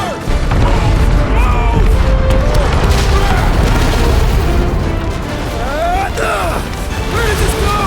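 Explosions and crashing blasts in the video game Marvel's Guardians of the Galaxy, loud and continuous with booms and debris under music, while characters shout urgently over the chaos.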